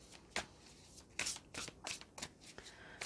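Tarot cards shuffled by hand in a series of crisp riffling bursts, about six or seven short flurries spaced irregularly, fairly close and clear with no voices.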